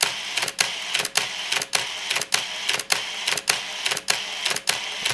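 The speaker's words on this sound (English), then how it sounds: "With this attached winder, we can continuously shoot at 2 frames per second" Pentax LX film camera with attached motor winder firing continuously at two frames per second, a steady run of about eleven sharp mechanical shutter-and-advance clatters, close and loud with no talk.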